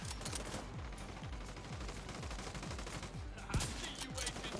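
Heavy gunner enemy's machine gun in The Division 2 hammers out sustained automatic fire, a dense fusillade of rapid rounds with one sharper burst near the end, loud and continuous throughout.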